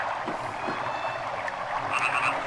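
Frogs croak in the Sega Saturn role-playing game Grandia, a steady dense chorus of game audio with faint chirps, continuous and even in level, no talking.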